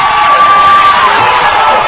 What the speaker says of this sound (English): And the defense chants coming from Louisburg louder than I've heard the NATO crowd all night.